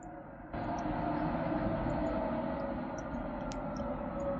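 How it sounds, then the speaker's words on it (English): Subway train rumble from a Syrinscape Cyberpunk ambience, a loud continuous low roar that swells in abruptly after a quieter start and keeps rolling steadily, with faint metallic squeals on top. "Oh, okay, there's the subway."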